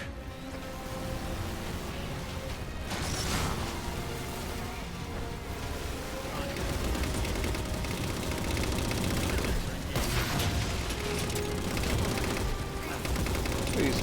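Dense, continuous gunfire and rocket blasts from the Halo Spartan Ops video game, with loud bursts of shooting and explosions crowding the whole stretch, and no voices over them.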